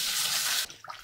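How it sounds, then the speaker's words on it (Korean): Running tap water pours over napa cabbage being washed in a kitchen sink, a steady splashing rush that cuts off abruptly, followed by a few drips. "배추를 깨끗하게 이렇게 심을 떼어내고 배추를 깨끗하게 씻어 보도록"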